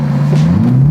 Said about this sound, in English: We're gonna accelerate into this.